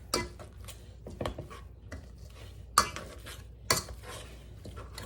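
Utensil scraping and mashing butter into potatoes in a pan for a baked potato casserole, with irregular soft stirring scrapes and a few sharper clinks against the pan, close by.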